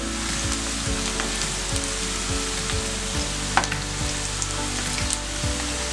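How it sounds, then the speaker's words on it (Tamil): Steady crackling sizzle of vegetable kola urundai dumplings deep frying in hot oil, continuous and close, with a low hum underneath and an occasional soft clink. "இது வந்து கருக விட்டுறாமல் பொரிச்சுக்கணும்."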